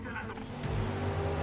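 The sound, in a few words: touring car racing in video game GRID Legends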